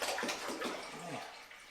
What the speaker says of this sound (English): We're going to put another gallon of water here.